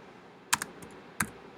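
Typing on a computer keyboard while editing text, a few sharp close key clicks in two brief clusters over a quiet background.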